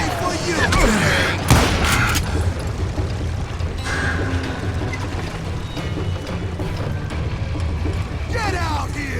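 Gunfire in the Western shooter Call of Juarez: Gunslinger, a sharp loud shot near the start followed by scattered booming reports and clatter, with a voice talking over the action.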